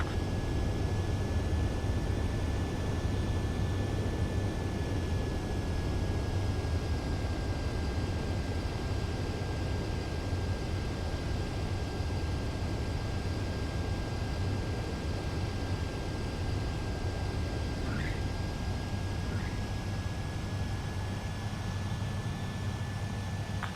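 A fighter jet in Ace Combat 7 roars steadily as a broad, constant rushing engine drone, with a thin sustained whine above it and no gaps.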